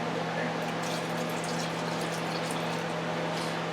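About half a cup of water is poured into a pot of potatoes, a steady close splashing trickle with a low hum underneath, and no break in the flow.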